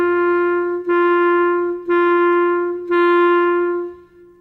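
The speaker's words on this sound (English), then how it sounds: "On the note G, it will sound like this." Clarinet sounding the note G, four evenly spaced tongued notes at one steady pitch, each held about a second with a clear, woody tone, close and alone.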